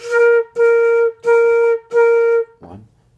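A flute plays four even, sustained quarter notes on B flat, each separated by a short rest, clear and close, followed by a faint brief clatter.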